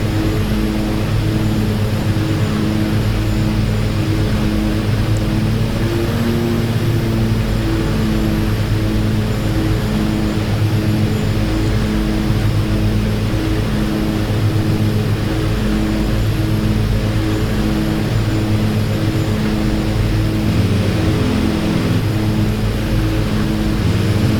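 Aircraft engine in the DCS flight simulator drones loudly and steadily for the whole stretch, a constant propeller-like hum with no voices.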